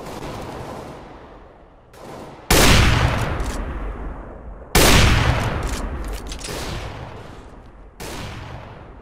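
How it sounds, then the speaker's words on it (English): A flashbang grenade detonates in a video game: two loud, sudden broadband blasts, each fading slowly, rise above a steady rumble of noise, with a weaker burst near the end. "Deploying flashbang."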